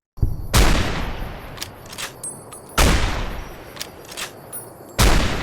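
Three loud, sharp gunshots sound in Fallout New Vegas, spaced about two seconds apart. Each crack is followed by a decaying echo and softer game sounds, with no talking.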